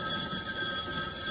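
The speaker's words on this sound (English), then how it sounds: "Your phone's ringing." A telephone rings in the 1974 film Black Christmas, a continuous bright metallic bell trill over a dense noisy bed, steady and moderately loud with no voices.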